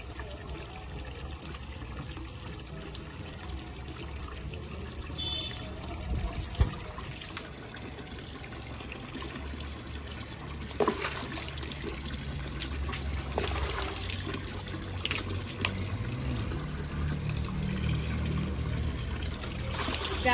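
Water trickling and splashing steadily while someone bathes on a rooftop, with occasional louder pours and knocks, a continuous wet background for the whole stretch.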